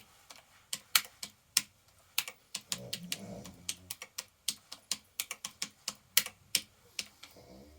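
Someone types on a repaired Rock Candy keyboard, a close run of crisp separate key clicks at an uneven but steady pace, with no talking.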